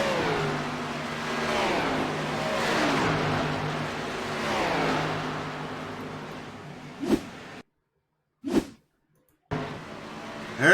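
Race cars run on the Atlanta track, engines revving and sweeping past loudly, then the sound cuts abruptly into silence broken by short engine bursts.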